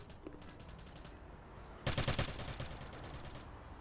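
Gunfire trades back and forth in a competitive video game match, a quick rattling burst of automatic shots standing out loud over faint earlier popping and a steady low background hum.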